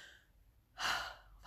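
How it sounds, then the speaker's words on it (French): One deep, audible breath during a breathing exercise comes up close and clear after a quiet pause, then trails off gently. "on va respirer, on va ouvrir le plexus"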